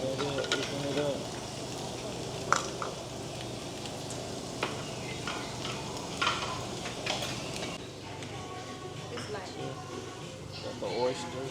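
Oysters, shrimp and mussels sizzle on a small grill in a steady, close crackling hiss, with occasional clinks and scrapes and people talking nearby over it.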